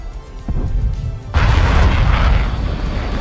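A missile explodes in War Thunder, a sudden loud, broad boom that swells into a rumbling, roaring wash of noise, following a softer thump and engine drone.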